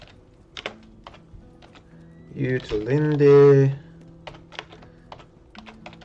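Quick, light clicks of someone typing a console command on a computer keyboard come in short bursts before and after a brief spoken word, close and crisp against a quiet background.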